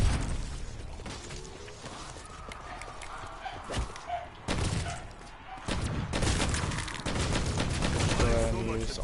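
Rapid bursts of automatic gunfire and single shots from Black Ops 4 Zombies ring out repeatedly over a steady game backdrop, loud and close, with a voice talking partway through.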